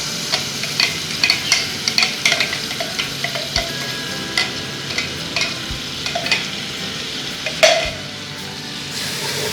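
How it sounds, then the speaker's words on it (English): Tomato puree cooks in a pot for a potato spinach curry, a steady loud sizzle with repeated rhythmic stirring scrapes and occasional clinks, one louder knock near the end. "And add that tomato puree into the cooking pot"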